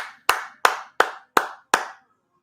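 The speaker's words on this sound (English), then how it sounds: "Round of applause for Lewis." Audience applause for Lewis, a guest, heard as five sharp, evenly spaced claps of a small group, each decaying quickly, followed by silence.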